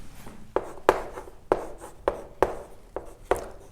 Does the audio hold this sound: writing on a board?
yes